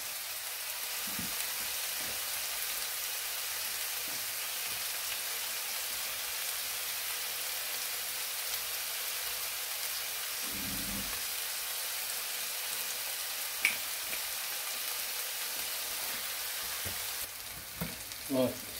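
Chicken shish kebabs sear in a hot pan with a constant close crackling sizzle, occasional soft knocks and shifts as the skewers are moved, and a brief clatter near the end.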